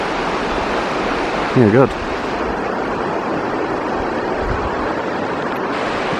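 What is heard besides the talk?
river water flowing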